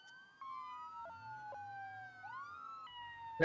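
A State Police car siren in the BeamNG.drive video game wails and yelps in shifting pitch, loud and close, with short blips and a burst of noise at the end.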